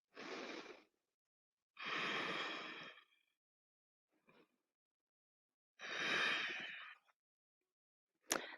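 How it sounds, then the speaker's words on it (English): Deep, slow breaths held in a yoga twist: four long, breathy inhales and exhales spaced by silent pauses, close and clear with no talking, ending in a short sharp breath. "2 more breaths."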